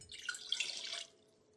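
Water running into a container for simple syrup, a steady splashing pour lasting about a second before cutting off, close and moderately quiet.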